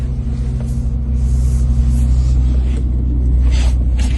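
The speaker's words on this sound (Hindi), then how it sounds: "ये ऑटोमेटिक गाड़ी चल रही है।" An automatic-transmission car drives along, heard from inside as a steady, loud low engine and road rumble with faint higher hiss passing over it.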